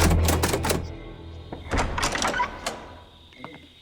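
A door opens with a quick burst of rattling clatter and knocks, then a few softer thuds and clicks fade out, close and alone.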